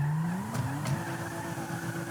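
A car in Grand Theft Auto V pulls away with a rising engine tone and a short tire squeal, loud and close, with no talking over it.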